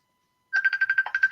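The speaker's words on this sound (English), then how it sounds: "Sorry, that was my phone. It's going absolutely mad." A mobile phone ringtone bursts in after half a second of silence, a bright repeating electronic melody of quick pulsing notes, loud and close, with no talk over it.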